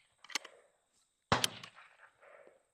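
A Stevens Model 15-B .22LR single-shot bolt-action rifle fires outdoors, a faint crack followed by a sharper, louder report about a second later, each trailing off quickly.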